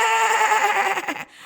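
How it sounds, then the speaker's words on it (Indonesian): A goat's bleat, one sustained wavering call close up and fairly loud, ending abruptly. "Nimesaba mengembik."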